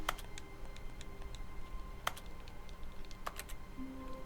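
Keyboard keys are pressed in The Stanley Parable, a few crisp isolated clicks spaced out over quiet background hum.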